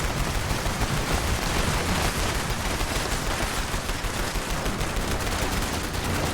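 Rapid, continuous gunfire in the video game Fallout 76, a dense, loud barrage of shots sustained throughout with no gaps and no talking.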